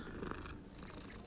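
A cat purring while being petted in the video game Hogwarts Legacy, a short, very faint, soft continuous rumble with no speech.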